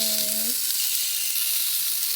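Sausages sizzle steadily on a cast iron griddle on a home stove, a dense hiss that holds from start to finish, with a brief faint tonal whine at the very beginning.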